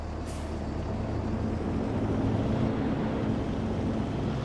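Steady low engine drone of a truck hauling a heavy load on a platform in the farming game Farming Simulator 22, a continuous rumble with a brief hiss near the start and no talk.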